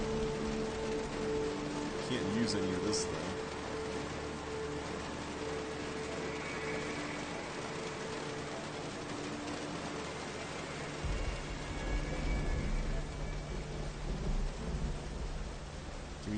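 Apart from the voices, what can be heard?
rain in video game Myst V: End of Ages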